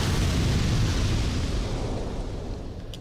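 In the video game Dark Souls II, an explosion's deep, rumbling roar fills the scene with a dense wash of noise that stays loud and then slowly fades.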